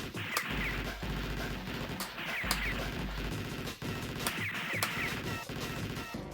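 Double shotgun blasting in the arcade game Shock Troopers: booming shots that repeat every second or so over a steady bed of game music and other battle noise.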